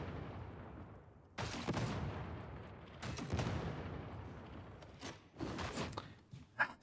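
Grenade gauntlet blasts in Warhammer 40K: Darktide: several sharp booming explosions at irregular intervals, each a sudden loud burst with a decaying rumble, followed by smaller popping impacts near the end.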